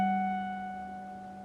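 Sustained guitar note from a bend on the 14th fret of the high E string, already ringing and slowly fading, soft and steady with no talking.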